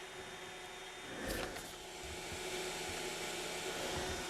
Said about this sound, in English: the printer head will go to its home position